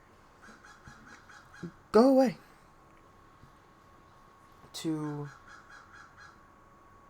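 Crows calling outdoors: two loud bursts of harsh, repeated caws, one early and one later, with fainter calls around them and a person talking in between.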